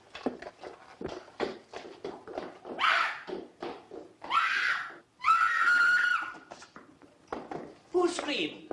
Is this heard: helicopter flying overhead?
no